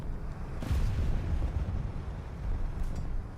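War Thunder tank battle gunfire: low rumbling booms and distant cannon blasts roll under a dense battle-noise background, with a heavier thud near the start.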